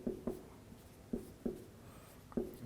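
Chalk or marker tapping and scratching on a board during a signals and systems lecture, a handful of short, faint, irregular knocks in a quiet room with no talking.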